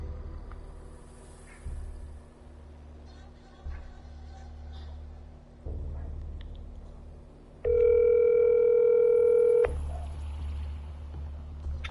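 A telephone tone sounds before a call is placed: one steady, fairly loud electronic tone lasting about two seconds over a low room rumble, with quiet background noise before and after.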